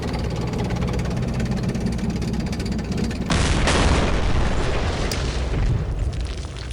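An artillery shot in a World War II strategy war game fires with a sudden deep boom partway through, its rumble lingering over a steady engine-like drone, followed by a smaller sharp crack.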